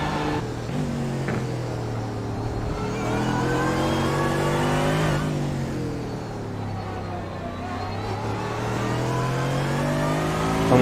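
A GT3 race car engine in iRacing at Silverstone, held near the redline with steady high-pitched droning harmonics and a brief shift dip midway, loud and continuous with no talking.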